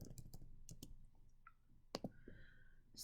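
Several sharp keyboard clicks, quiet and close, spaced irregularly as someone types a short sequence during a biology lecture, with a pause between bursts.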